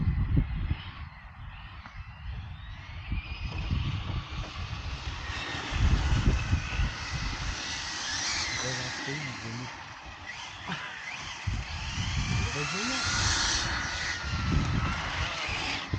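Hobao VTE2 V2 RC buggy engine running on a test outing, a steady buzzing drone that swells and dips as it drives around, fairly loud and continuous with no talking over it.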